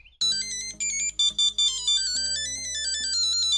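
A phone ringtone plays loud and close, a bright electronic melody of repeated tonal notes in short phrases that shifts pitch partway through, with no talking.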